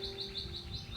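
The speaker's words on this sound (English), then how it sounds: "Wow, the birds are loud, but I do love them so much." Birds outdoors chirp in quick repeated high tweets, fairly loud and close, over a steady low hum of room noise.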